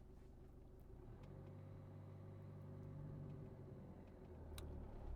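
A car pulls away in first gear during a driving lesson, its engine a low steady hum that rises gradually as it accelerates, with no talking over it.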